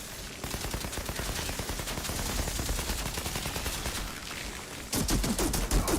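Sustained rapid gunfire from the video game Outriders during a boss fight, a dense rattling stream of shots that runs for several seconds and turns sharper and louder toward the end, with no talking.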